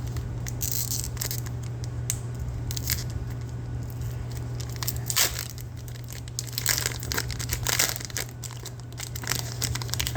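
A Pokémon Scarlet and Violet trading card pack wrapper being torn and crinkled open, a close run of sharp crackling rips and foil crumples over a low steady hum, with no speech.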